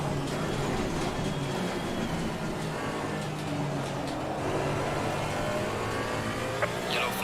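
GT3 race cars in the Assetto Corsa Competizione sim at a wet Zolder circuit: a continuous dense engine roar with shifting revs and other cars nearby, steady and fairly loud throughout without talk.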